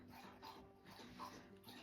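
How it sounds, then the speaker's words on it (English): A pet dog laps water from a bowl in a faint, steady rhythm of soft wet licks, heard indoors at a low level without speech. "Sorry if you guys can hear my dog having a drink."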